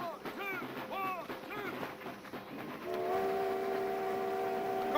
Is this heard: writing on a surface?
no